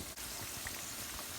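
Pakoras frying in hot oil over a medium-high flame give off a soft, steady crackling sizzle with scattered small pops, faint and continuous throughout.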